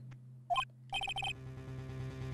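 Transceiver ringing in the Phoenix Wright: Ace Attorney – Justice for All video game: a short electronic chirp followed by a quick series of four bright, clipped trill bursts over a steady background music hum.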